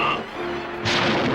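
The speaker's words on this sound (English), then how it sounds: "Solar flare missile armed and locked on target." Centurions Solar Flare missile firing as a toy commercial effect: a dense synthetic whoosh and rumble that swells into a bright, roaring burst of noise near the end, loud and without speech.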